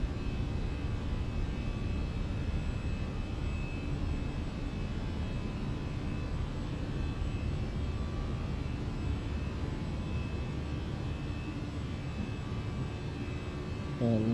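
A Fenix A319 airliner in MSFS2020 takes off and climbs with a steady, broad engine roar that holds even and unbroken for the whole stretch, with no spoken voices over it.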